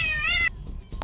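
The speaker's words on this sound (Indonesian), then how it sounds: "Ternyata kucing kecil." A small cat gives a clear, drawn-out meow up close, followed by a fainter short mew after a brief pause.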